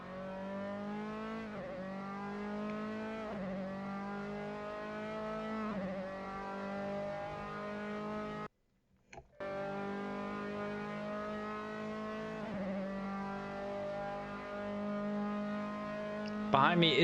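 Open-wheel Formula 3 race car engine at Silverstone in the Assetto Corsa racing game, a steady high whine with gear-shift dips as the car lifts to let a faster car lap it, broken by a sudden short dropout.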